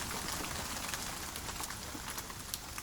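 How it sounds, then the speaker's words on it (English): Rain patters steadily on an umbrella on a cool night, a dense soft hiss of drops with faint scattered taps, close and even throughout. "the rain tapped softly on my umbrella"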